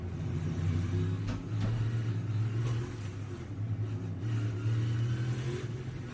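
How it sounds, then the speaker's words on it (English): Race cars in an Indy road-course race run through the grass. Their engines give a continuous rumbling drone that rises and falls as they rev and accelerate, heard from a distance, with no talk over it. "Cars going through the grass."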